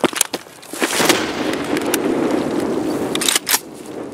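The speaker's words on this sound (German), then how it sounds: "Oh ey, die Granate explodiert das" A loud, booming explosion with sharp cracks before and after, leaving a rumbling roar that fades, a grenade going off in Escape From Tarkov.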